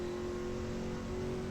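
Race car in a time-attack session at Detroit's Belle Isle circuit, its engine powering hard out of a corner, a loud steady mid-pitched drone with a rising harmonic tone, close and continuous with no talk.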